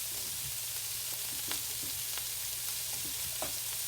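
Bacon fries in a pan with a steady close sizzle, broken by scattered small pops and crackles and an occasional light stir, with no voices.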